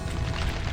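A dense, rumbling explosion blast from a Doom mod, a small area-of-effect burst that fills the whole short moment with loud, broadband booming noise and no pause.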